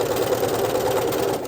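A sewing machine stitches an elastic on underwear fabric, a loud, close, steady rapid motor chatter running continuously, with no talk.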